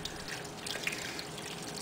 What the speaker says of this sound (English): Just need to pour it all over it.